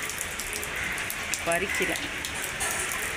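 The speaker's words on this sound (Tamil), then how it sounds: "நல்ல மழை" Heavy rain pours outside a house with potted plants, a dense steady hiss of falling drops close by, while someone speaks briefly over it.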